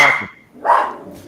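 Dogs barking nearby, two sharp separate barks with a short gap between them, fairly loud and with no talking.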